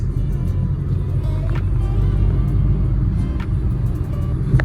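A diesel vehicle rumbles along the road nearby with a steady, low engine drone, joined by faint traffic sounds in the background.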